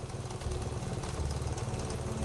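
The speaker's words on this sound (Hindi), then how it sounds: "बाइक स्टार्ट की" A motorbike engine running steadily at low revs, a continuous close rumble with a rhythmic chug, sounding like a bike just started and idling, no voices present.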